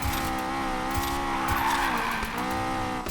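A Honda S2000 drifting in Need for Speed Payback: a steady, sustained engine drone with a high, whining tire squeal held throughout, loud and close, with no talk.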